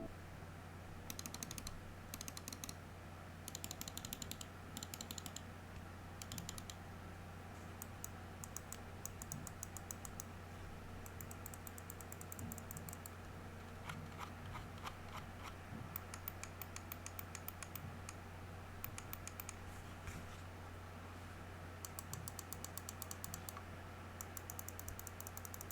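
Clicks from the buttons of a Razer Viper Ultimate wireless mouse with optical switches, rapid bursts of faint, crisp clicking repeated in clusters over a quiet background hum, with no speech.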